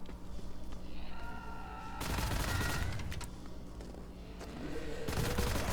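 The Fang Spitter nail gun fires in the video game Wrath: Aeon of Ruin in two rapid bursts of sharp, rattling shots that come and go, with quieter game ambience between them.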